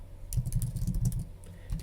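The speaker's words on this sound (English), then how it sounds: "I'll just type that." Quick bursts of typing on a computer keyboard, close and clear, with irregular clusters of key clicks followed by a short pause and a final few taps.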